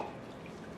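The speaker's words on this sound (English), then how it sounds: "we're gonna go in with water now" Water pouring steadily into a pot of split peas on a stove over high heat, a continuous close splashing wash with no voices.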